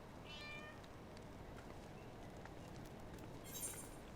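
A cat meows in the Final Fantasy 14 Heavensward video game, a faint high mew rising over a steady wash of ambient game background noise, with a second brief cry near the end.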